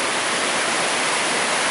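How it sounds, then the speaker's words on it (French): Raging flooded river in spate, carrying tree trunks and large branches, makes a loud, steady broadband roar of rushing water, close and unbroken throughout with no voices. "C'est-à-dire que la rivière est démontée, quoi."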